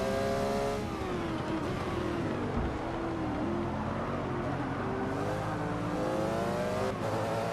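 Race cars in Forza 6 during a Rolex 24 GT race, engines revving hard with shifting pitch and brief tire squeal, a loud continuous roar throughout.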